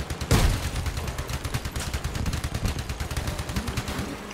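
Rapid gunfire from a vehicle-combat video game opens with a sharp blast and continues as a steady, fast stream of shots at moderate level, with no talking over it.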